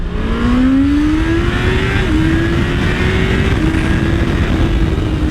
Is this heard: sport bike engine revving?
yes